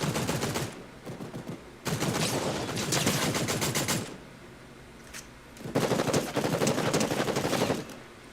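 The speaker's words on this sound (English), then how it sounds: "What are you shooting at me for?" Bursts of rapid automatic gunfire in Fortnite, three long volleys separated by short quiet gaps, fairly close and loud.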